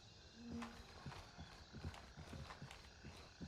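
Footsteps outside in the military shooter Gray Zone Warfare, a run of fairly close, irregular thuds over a steady ambient bed, with no clear talking.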